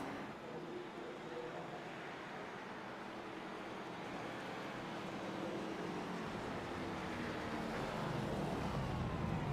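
A race car in a racing simulation game drives down the front straightaway at The Rock, a steady, fairly faint engine drone that swells slightly toward the end, with no talking.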